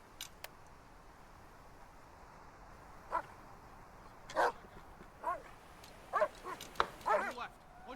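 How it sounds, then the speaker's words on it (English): Dogs bark in the war strategy video game Burden of Command, with several short yips and barks scattered at mid-distance over steady background ambience, and a voice talking now and then. "there's some dogs barking now"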